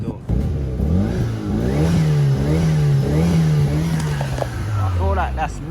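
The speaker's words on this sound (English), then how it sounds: "It's definitely the induction noise." A car engine revs up and down with strong induction noise, the pitch climbing and falling in repeated sweeps, loud and close inside the car. People talk over it.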